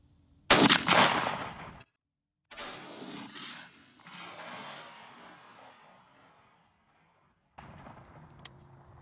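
A Franchi Affinity 3 shotgun fires a Black Cloud TSS shell outdoors: one loud, sharp blast that rolls off into a long fading echo, then a fainter second sound follows later.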